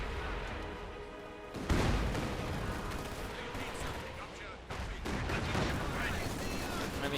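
A field gun fires at a Panzer tank in Company of Heroes 2, with two heavy blasts cutting through continuous battlefield gunfire and rumble, loud and close.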